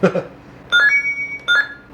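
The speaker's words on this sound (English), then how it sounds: "basically these are the notification sounds" Two bright electronic chime sequences from an ASUS AIGuru home robot, each a quick run of pure rising tones about three-quarters of a second long, loud and close, separated by a short pause after a faint sound at the start.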